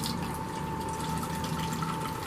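Hot water streams into a Space Cat container in a steady liquid pour, with a constant gurgling fill tone that holds evenly from start to finish and no talking.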